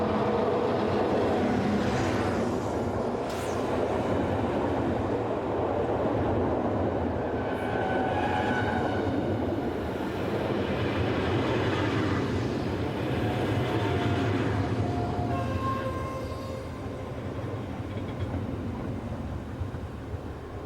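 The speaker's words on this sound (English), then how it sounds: "Arriving from the north is dual-voltage electric number BB26000 at the head of the 624 service from Dijon to Lyon-Parache." A dual-voltage electric locomotive, number BB26000, arrives from the north hauling the Dijon to Lyon service, its steady loud rumble of wheels and motors mixed with squealing wheel tones throughout, no talk.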